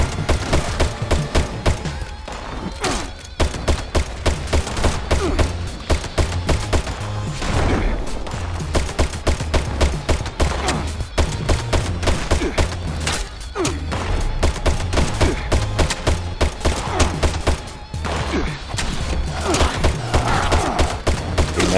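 Rapid, loud Crusader Pistol gunfire in Fallout 76 repeats in dense bursts for the whole stretch, with only a few brief pauses between volleys.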